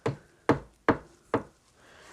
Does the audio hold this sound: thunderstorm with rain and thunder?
no